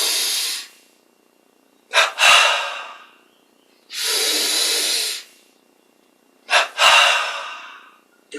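Two paired bursts of forceful breathing during a yoga exercise, each a quick double inhalation followed by a long, loud exhale, repeated twice with quiet pauses between.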